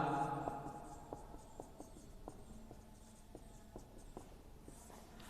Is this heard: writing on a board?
yes